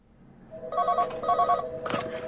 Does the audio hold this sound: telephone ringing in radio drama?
yes